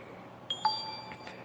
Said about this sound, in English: I don't know how to turn the notifications off on this one.